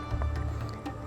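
Fish pieces are swished around in salted lemon water for a Sindhi green fish curry, giving soft wet squishing and sloshing sounds close by.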